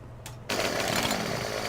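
A chainsaw cuts timber in the logging video game Farming Simulator 2015, a steady buzzing engine whine starting abruptly after a short pause and running continuously up close.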